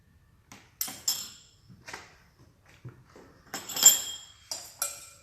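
Salad tossed in a bowl, topped with sunflower, pumpkin and toasted white sesame seeds, gives several short, light clinks and rattles spaced out over a few seconds, with quiet pauses between them and no talking.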